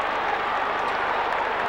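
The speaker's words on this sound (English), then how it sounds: "Port Adelaide crowd sensing it too. There's quite a bit of noise in this stadium." Football crowd at a Port Adelaide AFL match in a stadium, a steady, dense roar of clapping and cheering that fills the whole moment without breaks.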